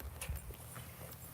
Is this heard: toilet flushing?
no